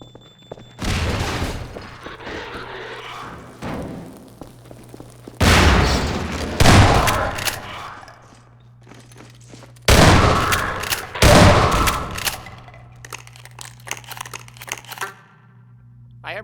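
Loud, close shotgun blasts from the video game Half-Life 2 Episode 1, fired in irregular bursts with sharp cracks and short decaying tails during close-quarters combat, over a steady low game hum.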